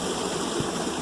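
Small waterfall dropping about two feet into a pool in a deep canyon with sheer rock walls, a steady close rush of falling water with no break.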